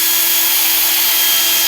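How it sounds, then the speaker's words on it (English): A drill spinning a foam polishing disc against a left-handed guitar's finish gives a steady, loud, continuous whirring hum close up, with no pauses. "we're just taking foam disc on our drill, and we're just gonna polish this out"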